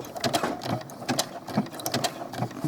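A sewing machine runs in quick bursts, stitching ribbing onto small doll clothes, its needle chattering in a fast mechanical rhythm with short pauses between runs, close and clear.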